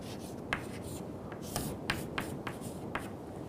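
A pen or marker scratches and taps on a board while an airplane diagram is drawn during a lecture, giving short irregular strokes with sharp clicks, close and quiet, with no talking.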